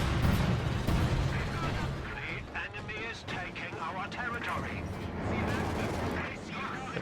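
Land Mattress rocket artillery in Company of Heroes 2 fires a barrage, muffled booms and crackling impacts rumbling under steady commentator talk.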